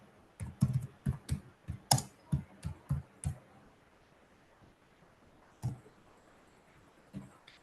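Typing on a computer keyboard: a steady run of about ten distinct keystrokes, close and crisp, then a pause and a few more scattered key presses in a quiet room.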